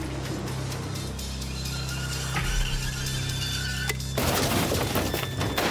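In a crash test of a London black taxi, a child dummy strikes the toughened glass partition head-on: a loud impact with rattling and shattering, then a sudden burst of harsh crackling debris near the end.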